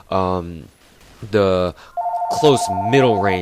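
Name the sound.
telephone ringing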